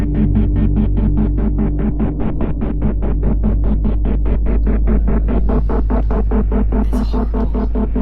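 Low 28-hertz tone from an emitter driven at 90 decibels, a steady loud throbbing hum pulsing in a fast regular rhythm, with a faint brief hiss near the end.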